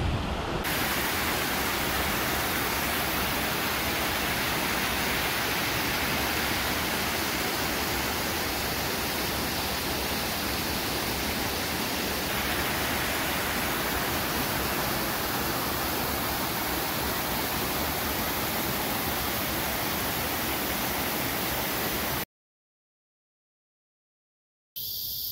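Water rushes over an island spillway in a steady, loud, close roar that holds unbroken for over twenty seconds, then cuts out abruptly near the end.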